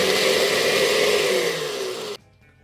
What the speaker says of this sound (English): Okay, we're gonna do this with more ice and longer blending session.